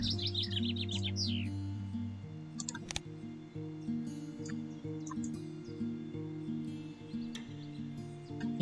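Bird chirps ring out briefly at the start as a European Robin card is played in the Wingspan board game, followed by soft clicks over a steady background music bed.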